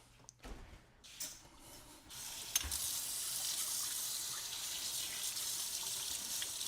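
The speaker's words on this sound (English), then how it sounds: "We're going to wash the spoon." Tap water runs steadily from a faucet into a sink while a spoon is washed, a continuous close hiss after a few clinks and handling noises at the start.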